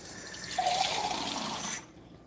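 Water pours into a pan of vegetables in a steady, close splashing stream that runs for under two seconds, then cuts off abruptly into quiet.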